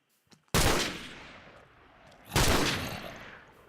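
Two loud gunshots from a gun mod in Minecraft, fired at a zombie, each a sharp crack with a long decaying tail, spaced about two seconds apart.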